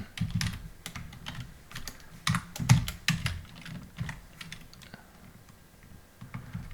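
Rapid clattering keystrokes on a computer keyboard as crossword answers are typed in, irregular bursts of close, crisp taps with brief pauses between runs.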